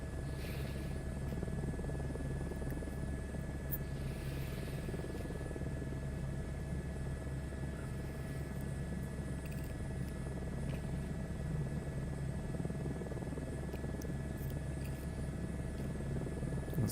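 A helicopter cruises in flight on a long cross-country trip, its engine and rotor making a constant, dense low rumble and drone heard from inside the cabin, unbroken and steady throughout.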